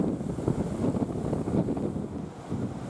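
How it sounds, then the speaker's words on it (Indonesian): Strong wind buffeting the microphone over high seas off Merauke, with waves about 5 meters, a rough continuous rushing roar that surges and dips, without any voices. "ketinggian gelombang mencapai 5 meter disertai angin yang kencang di perairan Merauke"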